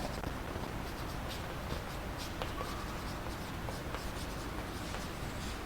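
A pen writes on paper with a steady, soft scratching that runs continuously for several seconds, close and quiet with no talking.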